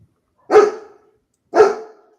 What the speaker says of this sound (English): the dog must have heard the chihuahua